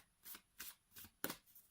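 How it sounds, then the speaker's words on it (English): Oracle card decks, including the Romance Angel Oracle deck by Doreen Virtue, are shuffled in four soft, quick riffles, close and quiet, with the last one the sharpest. "let's have a shuffle of all 3 decks"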